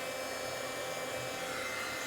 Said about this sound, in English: When you want to emboss, it's a heating tool.